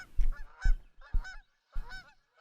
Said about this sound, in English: watch out for the geese.